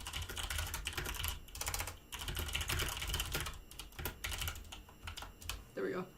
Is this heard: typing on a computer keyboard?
yes